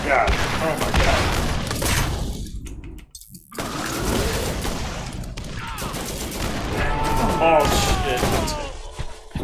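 Borderlands co-op shootout with dense, sustained gunfire and heavy thuds through most of the stretch, a brief lull in the middle, and excited players talking over the din.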